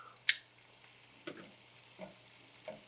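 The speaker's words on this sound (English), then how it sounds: "let's add that cabbage in. This was the leftover cabbage left in the pan" Leftover cabbage tipped into a hot pan with onions: a sharp clatter, then soft sizzling with a few faint stirring scrapes, quiet and close, no talking.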